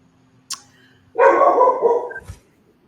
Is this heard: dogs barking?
yes